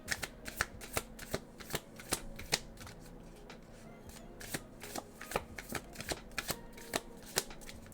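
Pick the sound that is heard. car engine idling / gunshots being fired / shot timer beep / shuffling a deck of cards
shuffling a deck of cards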